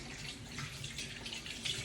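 Tap water runs steadily into a kitchen sink as hands are rinsed of raw meatball mixture, a close continuous hiss with small splashy fluctuations and no talk.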